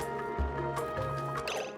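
Polluted water flowing through pipes in the Oxygen Not Included video game, a short burst of bubbly dripping and gurgling liquid, steady and close, with no one talking.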